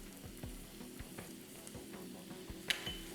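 Lime leaves drop into a pan of bubbling Malaysian-style goat curry, giving a steady close sizzle and frying crackle with soft stirring knocks and one brief sharp clatter near the end.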